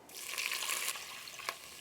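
Pork stock made from smoky pork bones pours into a pot of toasted aromatics for Chinese braised pork belly, a steady close hissing splash that tapers off, with one brief clink near the end.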